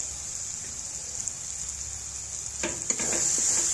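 Spice masala with yogurt fries in hot oil for a jackfruit kalia, giving a steady high sizzle. A few clinks and stirring scrapes come in near the end, and the sizzle grows louder.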